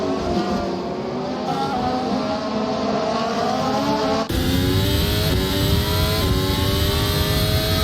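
Several F1 race cars in a racing video game at Zandvoort roar together, a loud, continuous blend of high engine whines rising and shifting in pitch, with a sudden change in tone partway through as the pack pushes on.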